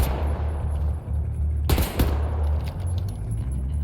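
Automatic gunfire in Wolfenstein: The New Order, a short sharp burst of shots over a constant low rumbling game backdrop.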